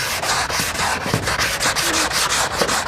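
A PaintFX Soft Sander pad worked by hand makes rapid, rhythmic rasping scrubs, back-and-forth strokes repeating steadily and close, loud and continuous without any talk.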